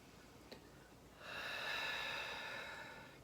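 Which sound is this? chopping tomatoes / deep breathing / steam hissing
deep breathing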